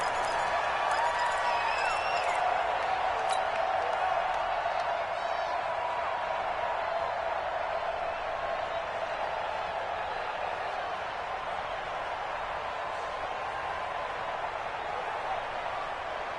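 Stadium crowd noise in a Pittsburgh Steelers versus Dallas Cowboys football video game on PS4, a steady broad roar of cheering fans holding at an even level throughout with no voices in front.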